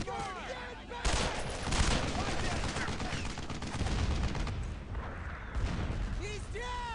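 Dense gunfire from the World War II shooter game Brothers in Arms: Road to Hill 30, a continuous fusillade of rifle and machine-gun shots with shouting voices mixed in, loud and sustained throughout.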